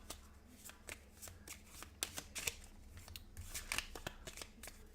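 A deck of game cards for a Shin Kansen Zero-Kei tabletop game being shuffled by hand, with a series of quick riffling bursts and soft card slaps, close and fairly quiet.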